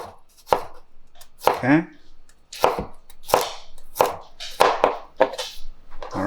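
Chef's knife slicing garlic cloves on a cutting board in a kitchen, with a steady series of crisp, close chops in an uneven rhythm and a brief spoken word partway through.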